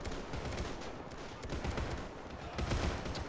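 Lewis gun machine-gun fire from a WW1 Easter Rising battle in Dublin in the game Men of War, a dense, steady crackle of bursts mixed with other gunfire throughout, fairly loud with no talk.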